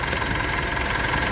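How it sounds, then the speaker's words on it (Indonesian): A 2020 Mitsubishi Pajero Dakar diesel engine idles smoothly with around 3,000 km on it, giving a steady, close mechanical hum and faint rhythmic ticking throughout, with no voices. "Kita dengerin juga suara mesinnya"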